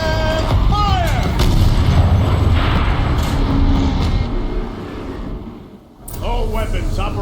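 A turret fires in the video game Horizon Zero Dawn: loud booming artillery-like blasts with rumbling low end and mechanical clatter, fading into quieter ambience before the noise returns.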